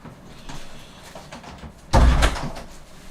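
A front door is shut after being answered indoors, one loud, close thud-and-latch slam near the two-second mark, preceded by faint shuffling.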